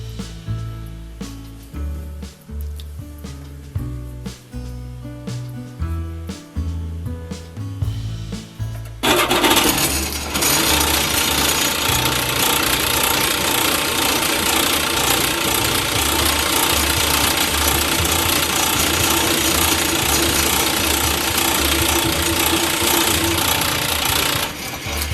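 A South Bend 9C lathe with an AXA tool post runs at first with a humming drive and rhythmic clicking, then the tool bites in and a loud, continuous harsh scraping hiss of cutting fills the rest.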